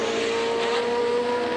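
A 1973 March 731 Formula 1 race car, the Stock Exchange Special, screams past at the British Grand Prix, with a loud, steady high-pitched engine whine and a second similar car running close behind.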